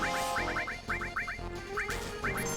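A goose in Final Fantasy VII gives rapid, nasal honks in quick clusters of two to four, loud and repeated over a busy background of game music.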